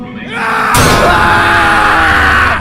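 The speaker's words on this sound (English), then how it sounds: "Then he screamed and slashed the locker." A man lets out a loud, sustained scream as a blade slashes against a metal locker, the harsh yell starting abruptly and holding for about two seconds.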